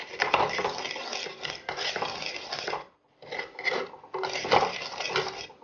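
A spoon repeatedly crushes and scrapes popped mustard seeds in a pan, with dense clattering metal scrapes arriving in bursts and a short pause in the middle.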